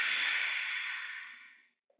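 A yoga instructor gives one long breathy exhale during a slow lower-back routine, a close, airy hiss that fades out over nearly two seconds.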